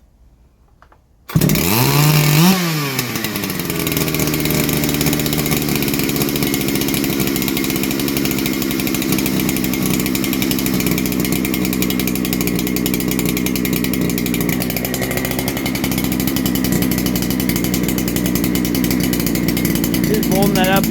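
Ported Neo-tec NH8120 chainsaw snaps to life after a brief quiet moment and keeps running loud and close, a harsh steady buzz as it warms up, with a slight pitch shift late on.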